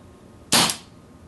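A single sharp crack from a Beretta 92 FS 4.5mm air pistol being fired, near and loud against a quiet background, with a short fading tail.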